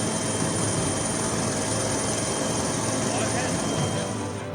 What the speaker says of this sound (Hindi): संगम स्नान करने वाले श्रद्धालुओं पर हेलीकॉप्टर से फूलों की बारिश भी की गई